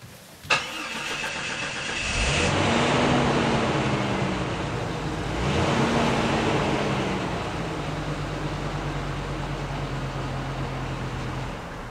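A car engine outdoors cranks and catches with a sharp start, then runs at a steady idle with a couple of revving swells before settling into a constant low rumble, close and clear with no talking.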